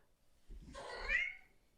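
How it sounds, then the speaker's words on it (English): A cat attraction sound plays from an iPad speaker, a single drawn-out meow that rises and then fades, heard fairly faint and close with no talking over it. "You want me to play a cat attraction noise?"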